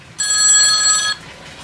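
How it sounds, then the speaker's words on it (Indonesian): A telephone rings once in a single bright, trilling burst of about a second, loud and close, then cuts off into quiet, during an interview at a coffee-roasting machine business. "Iya, ada telepon ya."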